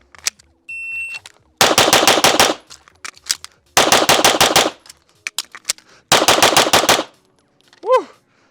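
A pistol fires three very rapid strings of shots from a competition holster at a USPSA target seven yards away on an outdoor range, each burst loud and tightly packed, with short beeps and gaps between strings.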